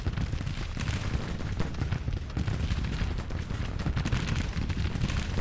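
Musket and cannon fire roll on without pause in a Civil War battle in the strategy game Grand Tactician, the Battle of Washington, forming a dense, loud, crackling din with no clear gaps between shots.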